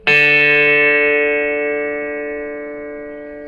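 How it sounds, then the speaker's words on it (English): A single plucked D string, the fourth string of a guitar, rings out clearly and decays slowly with a bright sustained tone, alone with no talking. "and the D string, the 4th string."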